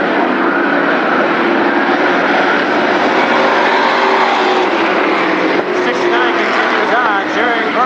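Mini Indy race cars racing on the track at Berlin Raceway, a loud continuous roar of engines droning throughout, with an announcer talking over it.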